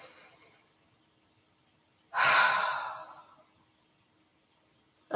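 A single deep breath drawn in and released during a calming relaxation exercise, a broad airy rush lasting about a second, close and clear, with a fainter breath at the start and another beginning at the end.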